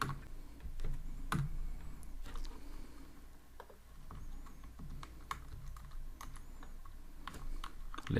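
A computer keyboard is typed on nearby in quick, faint, uneven bursts of clicks over a low steady hum, with short gaps between keystrokes and no talking.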